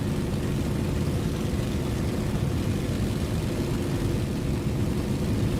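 Aircraft engine at full throttle in a video game bomber, a steady loud droning roar with dense low rumble that stays constant throughout, no voices.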